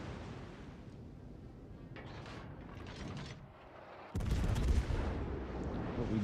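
Naval gunfire in World of Warships: Legends, a warship battle, with a sudden loud, deep boom about two-thirds through followed by a sustained rumbling roar, over a steady background of engine and sea noise.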